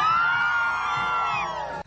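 A large parade crowd at a Christmas procession cheers, whoops and screams steadily at Santa Claus's arrival, a loud continuous roar of many voices with children's shouts mixed in, fading slightly near the end.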